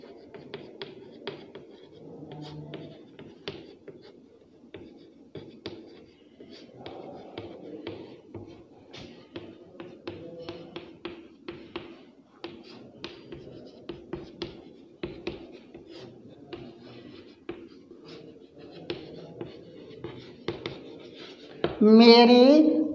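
Pen or chalk scratching out a sentence by hand, a steady stream of soft, faint strokes and taps with short pauses, ending in a brief louder rustle.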